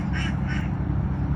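Ducks at a natural residential pond give two quick nasal quacks over a steady outdoor rumble, fairly close, with no talking.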